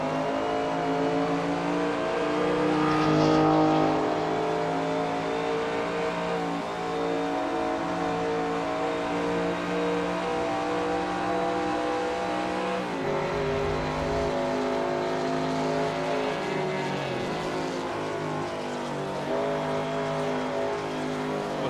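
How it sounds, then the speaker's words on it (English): A 5-liter V8 race car engine in Assetto Corsa drones steadily and loud at high revs, pitch rising and dipping through gear changes and corners, with other vintage sports cars audible around it on the Spa Francorchamps circuit. "Well, it is a 5-liter V8 engine"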